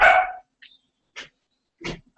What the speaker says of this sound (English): if you can hear the dog freaking out about it